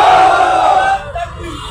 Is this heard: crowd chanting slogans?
yes